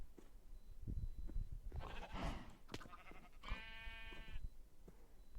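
In-game sheep give several faint, wavering bleats over a quiet background, the last one a longer trembling cry, with no one talking.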